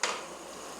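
Chowmein stirred in a hot pan with vinegar: a brief clatter at the start, then a steady hiss and sizzle that fades a little, close and alone.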